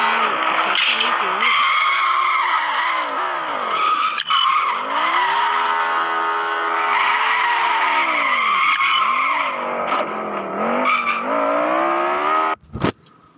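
A car drifting with tires skidding and squealing in long sustained sweeps, engine revving underneath, loud and close throughout with a sharp disturbance near the end.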